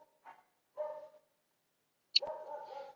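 Dogs bark at night in a few separate, moderately distant bursts, with a short yelp and a longer bark run near the end against a quiet background.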